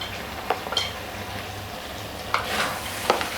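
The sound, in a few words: stirring spices into daal karela in a pan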